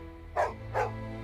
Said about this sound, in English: Oh, hush, Den. Don't bark at our guests.